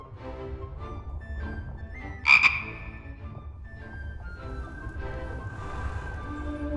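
Frog croaking in the fantasy adventure game The Book of Unwritten Tales 2, a single sharp croak rising over a bed of soft music and ambient game sound.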